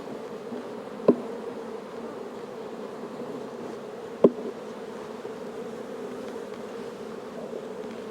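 A steady, dense drone of honeybees swarming around an open hive during brood work, continuous and close, broken by two sharp knocks or taps with no talk.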